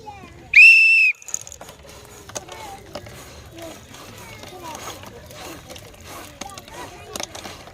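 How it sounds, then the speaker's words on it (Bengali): A sharp, shrill whistle blast of about half a second starts a village girls' ball-blowing challenge game, followed by background chatter and rustling movement. "বাসি ফু দিলে খেলা স্টার্ট"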